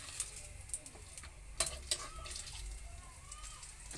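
Cooking oil sizzles steadily in a frying pan in a home kitchen, a soft continuous crackle with a few sharp clinks of a utensil against the pan near the start.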